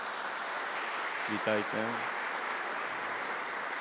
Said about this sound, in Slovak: môžeme ich privítať potleskom